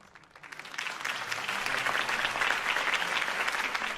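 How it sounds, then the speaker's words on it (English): Crowd applause in a Batman: The Telltale Series scene after Harvey Dent's campaign speech, rising quickly from quiet into sustained, dense clapping that holds steady for several seconds. "could have heard that applause"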